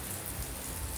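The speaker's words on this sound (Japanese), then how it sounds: "雨うるさすぎる。 やばすぎるでしょ雨。" Heavy rain pounding down around an old traditional Japanese house, a dense, continuous wash of drumming drops with no voices.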